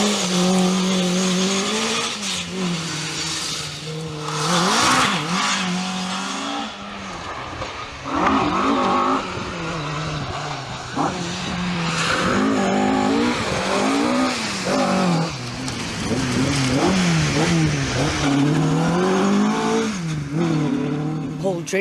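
A Ford Escort rally car on a Mid Wales historic rally stage in 2005, engine loud and close, revving hard through repeated gear changes with tire squeal and skidding, a commentator's voice talking over part of it.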